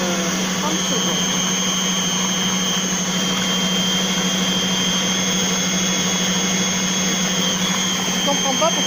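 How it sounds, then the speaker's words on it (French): Compact Cook Pro multicooker blending mushroom velouté at speed 8, a loud continuous high-pitched motor whine with a steady churning roar throughout, close and unchanging. "j'ai remis à vitesse 8, il y avait encore quelques grumeaux"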